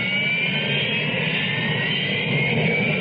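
Harrier jet engine roaring steadily at close range, a continuous loud high-pitched whine over broadband rumble with no pauses.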